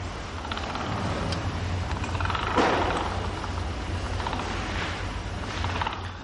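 Candle-making machines run in a Dublin candle workshop, a steady mechanical clatter and whirr with faint ratcheting and creaking, moderately loud and continuous with one slightly louder knock partway through.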